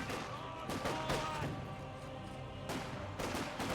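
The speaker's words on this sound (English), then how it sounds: "Great mortar hit there" Mortar and gunfire impacts in a Company of Heroes 2 battle, a cluster of sharp bursts near the start and another pair later, over continuous battlefield din with faint commentary underneath.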